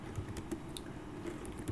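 Keys clatter in quick irregular clusters as a command is typed on a computer keyboard, close and fairly quiet, with no voices.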